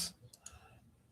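A mouse click on a Facebook share button in a design app, two faint sharp ticks close together, quiet and close, with no talking.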